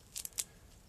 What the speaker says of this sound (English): the moss that I'm cutting off will be replaced